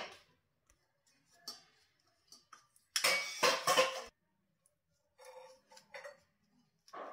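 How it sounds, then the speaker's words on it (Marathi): A knife cuts through steamed coriander fritters on a greased rack, giving light ticking and clinking taps, a few sparse strokes, then a louder burst of scraping and tapping, then quiet cuts again. "इझिली कट होत आहेत"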